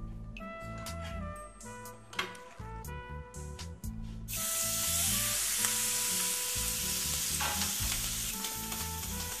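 Marinated beef is seared in a hot pan with a steady crackling sizzle that surges much louder about halfway through. Tonal background music plays underneath.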